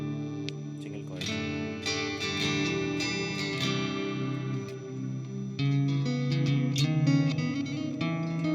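Electric guitar playing with a clean single-coil tone from a coil-split Thomson ES-420 HSS Stratocaster, modded. The notes ring steadily and close up, with chorus-like shimmer and reverb tails, and no talking over them.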